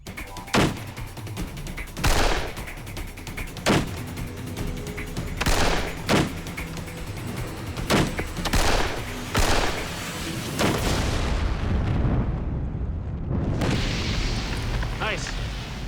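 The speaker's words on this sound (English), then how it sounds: "so the pistol with the longest range will detonate the target first" Pistol shots fired at tannerite-packed explosive targets, a Luger and a Tokarev compared: a string of sharp, loud reports spaced a second or two apart, then a heavy rolling detonation rumbling on for several seconds.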